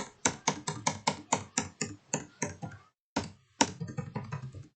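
The Enter key on a computer keyboard is tapped about a dozen times in an even, quick rhythm, crisp close clicks with a brief pause before a few more.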